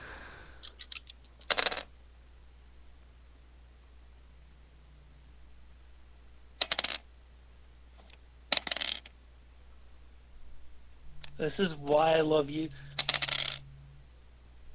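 A big handful of real dice rolls and clatters onto a surface in a few separate bursts, with one longer tumbling rattle near the end, against a quiet background and a brief spoken remark.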